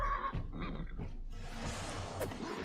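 In the video game Wartales a horse lets out a loud, drawn-out whinny that rises and falls, with rough battle noise and scuffling around it.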